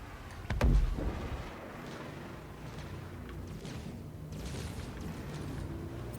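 A deep boom erupts close by in the space game Star Citizen, a single heavy blast that rolls off into a low rumbling ambience with scattered faint clanks.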